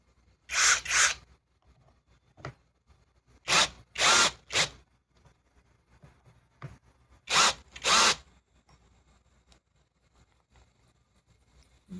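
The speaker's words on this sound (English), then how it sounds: "Let's drive it in all the way." A Kreg 4 amp drill/driver drives a fastener into wood in several separate bursts of loud whirring, each lasting about a second, with quiet pauses and faint handling noise between them.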